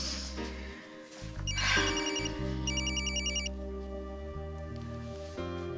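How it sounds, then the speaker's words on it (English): A telephone ringing with an electronic ringtone: a looping melodic pattern of bright repeated tones over a steady background, loud and close. "You're gonna answer your phone?"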